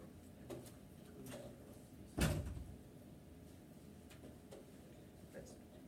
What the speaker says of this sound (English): Hey Chase, can you close that door for me?